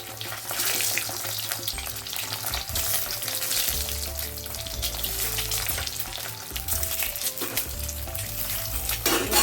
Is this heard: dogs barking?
no